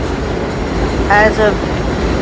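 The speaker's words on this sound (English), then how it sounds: "That's the 6 train that's running through Westchester Square." An elevated 6 subway train runs through Westchester Square in the Bronx, a steady broad rumble filling the whole moment while a voice speaks briefly over it.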